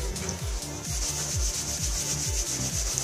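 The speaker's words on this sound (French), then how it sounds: "je vais vous frotter votre tuyau" A plastic tube rubbed briskly to charge it with static, steady rhythmic back-and-forth scrubbing strokes, close and fairly loud, without any talking.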